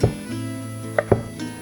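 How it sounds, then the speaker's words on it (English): Knife slicing through 8 ounces of bacon thinly on a board, a few sharp chopping taps spaced out against a low steady kitchen hum, close and fairly quiet. "Take 8 ounces of bacon and slice it thin."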